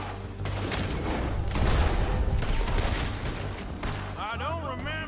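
Dense, continuous gunfire in Red Dead Redemption 2, a sustained fusillade of overlapping shots with heavy low booms filling the whole stretch, close and loud, with brief voices and a yelled call near the end.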